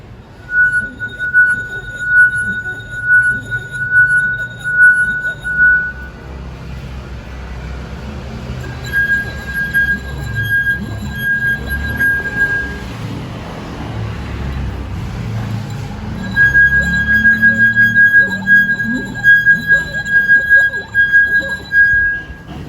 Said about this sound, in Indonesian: Aduk secara perlahan, lalu gosokkan pada bibir gelas.